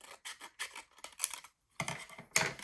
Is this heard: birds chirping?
no